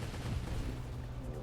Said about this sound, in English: A lot of my missiles are really going far wide, though.